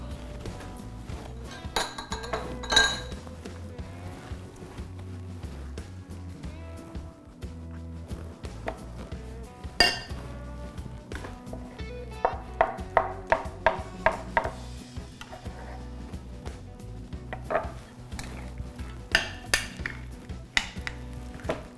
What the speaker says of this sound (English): So when you're mixing it around, you're slightly smashing it a little bit, not too much.